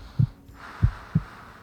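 Three soft, low thumps of a heartbeat sound close and alone against a quiet hum, the first two spaced wider than the last.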